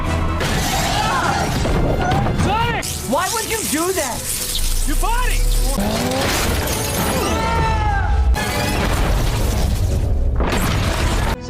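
A tank wrecked by Sonic's power in a Sonic 1 story retelling: loud, continuous crashing, shattering metal and booming blasts with squealing debris, while characters talk over the chaos.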